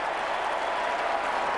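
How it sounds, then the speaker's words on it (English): A large Eagles crowd at an Australian football match roars with steady, dense applause and cheering, loud and continuous with no break. "Well, the Eagles crowd love it."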